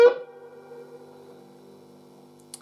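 A single electric guitar note, a B flat given a very slight quarter-tone bend, is picked once and rings out quietly, decaying over a couple of seconds, followed by a faint click.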